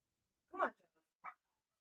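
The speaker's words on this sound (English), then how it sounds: "The dogs love to start fighting with each other at the fence" Dogs bark and squabble at a fence, heard as one loud bark followed by a shorter yelp after a brief pause in otherwise quiet surroundings.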